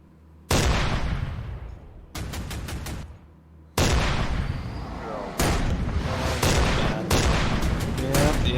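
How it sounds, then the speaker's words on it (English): Bombs detonate in the naval warfare game Command: Modern Operations, a string of sharp, loud blasts one after another, each with a rumbling tail, heavy and close. "Yep, there's the bombs."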